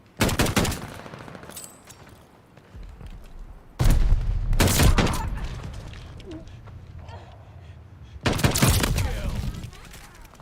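M1916 rifle fire in a Call of Duty Vanguard team deathmatch, loud bursts of rapid shots in three separate volleys with game sounds between them, and a brief voice heard.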